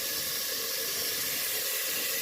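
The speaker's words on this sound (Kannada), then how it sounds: "ಸ್ವಲ್ಪ ಎಣ್ಣೆ ಮತ್ತು ಈರುಳ್ಳಿನ ಹಾಕ್ಕೊಂಡಿದ್ದೀನಿ, ಸ್ವಲ್ಪ ಬೇಯಲಿ" Onions frying in oil in a pan for a chicken gravy, a steady broadband hiss and sizzle running continuously without pause, moderately close and fairly quiet, with no voices.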